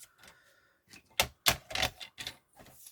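Scrapbook paper being creased into a fold, heard as a run of crisp, close taps and sharp presses, several quick bursts spread over a few seconds with no speech between them.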